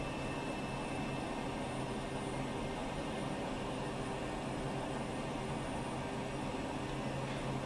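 A small bush plane engine drones steadily in a flight video game over South America, a continuous even hum with no change in pitch or loudness.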